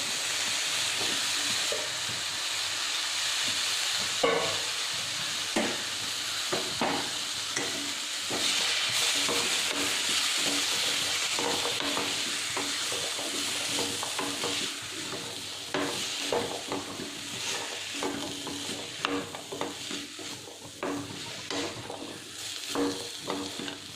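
Chopped breadfruit (sheema chakka) sizzles steadily in hot oil for a curry, with repeated close scraping and stirring knocks over a continuous frying hiss.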